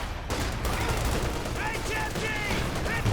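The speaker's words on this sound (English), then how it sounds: "MG suppressing." Machine gun fire in Company of Heroes 2 rattles in a busy battle mix, with dense bursts of shots and distant explosions, and a voice talks over it.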